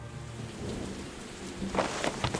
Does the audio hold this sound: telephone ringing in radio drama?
no